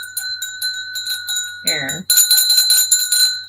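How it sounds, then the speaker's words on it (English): An iron energy-clearing bell rings with bright, sustained metallic tones, struck repeatedly in quick succession, near and loud, with a short spoken word breaking in midway. "I'll give you a bell ring."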